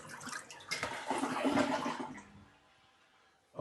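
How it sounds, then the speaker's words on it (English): A toilet double flush on a plumbing setup being checked for leaks, with a loud rushing, gurgling swirl of water for about two seconds that then drains away to a quiet trickle before a sudden burst at the end. "Let's go double flush."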